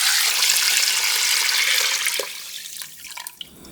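Tap water gushes loudly into a large stockpot of beef bones for soup stock, then stops. A few clinks and drips follow near the end.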